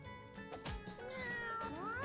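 A cartoonish cat meows in the video game Mewgenics, a couple of quick cries followed by a longer rising, whining call, set against soft game music and effects.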